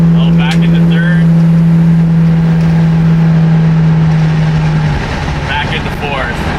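A Gen 3 Hemi-swapped Gremlin car drives on smooth pavement, its engine a loud steady drone that drops as the driver shifts back into third gear, with someone talking over it.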